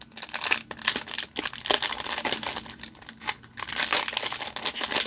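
Foil wrapper of a Flesh and Blood Tales of Aria trading card booster pack crinkling and tearing open up close, a run of sharp crackling rustles with brief pauses, no talk.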